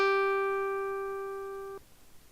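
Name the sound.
synthesized pluck guitar note G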